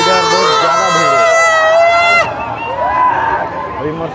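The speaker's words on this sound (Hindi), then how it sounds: "पूरा मेला भर में इतना भीड़ है। और पूरा इधर बहुत ज़्यादा भीड़ है।" Dense crowd at the Devgadh fair in Ambikapur, a steady wash of close voices and bustle with a loud, sustained tonal sound over it for the first two seconds, then continuing crowd noise.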